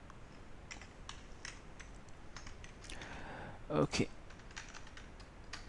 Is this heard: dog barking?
no